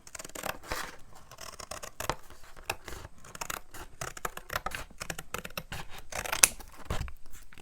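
Scissors cut straight across paper in a series of close, sharp snips and rasping slices, repeated at an uneven pace in a quiet room with no talking.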